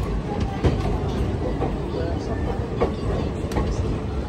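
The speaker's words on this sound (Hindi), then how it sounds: "तो चलिए अपनी ट्रेन यहाँ से निकल चुकी है" Garib Nawaz Express train pulling out between Kishanganj and Barauni Junction, a steady rumbling roll with scattered clacks and knocks from the carriages, heard from on board while voices murmur nearby.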